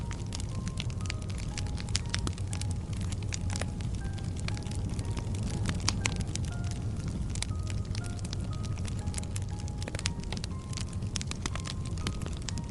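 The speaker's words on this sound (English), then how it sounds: "The fire crackles softly, and we rest beneath the stars." A fire crackles softly under a night sky, with sharp scattered pops and snaps over a steady low rumble, continuous and close.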